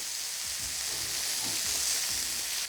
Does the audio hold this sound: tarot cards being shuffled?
no